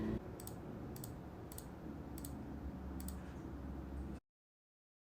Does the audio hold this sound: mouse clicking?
yes